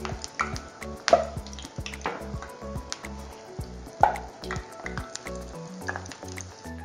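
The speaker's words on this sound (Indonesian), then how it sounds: "Sekarang kita goreng bakwan jagungnya." Hot oil sizzles and crackles steadily as corn fritters fry, with a few sharper pops and scrapes standing out, no voices.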